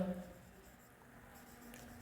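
A pen scratching out a maths solution during a Class 7 percentage lesson, a faint, soft scraping stroke heard close by, with a voice briefly at the start.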